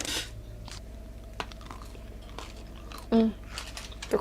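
A green apple fruit snack being bitten and crunched, with a few crisp chewing crackles standing out against a quiet room and faint background noise, nearby and brief.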